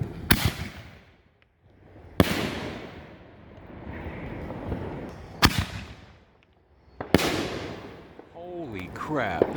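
Backyard Fourth of July fireworks, including a neon tube, go off in four loud, sharp booms spaced a couple of seconds apart, each followed by a crackling, rumbling tail, with people's voices in between.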